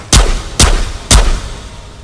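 Three loud, booming shotgun blasts fired one-handed in the VR shooter Ghosts of Tabor, evenly spaced about half a second apart, each with a heavy low thump and a short decaying tail.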